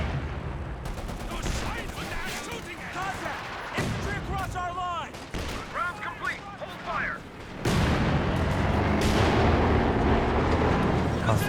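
Anti-tank gun firing in Company of Heroes 2, with booming shots and battle noise that intensify into a loud, sustained roar of combat near the end, mixed with other game effects.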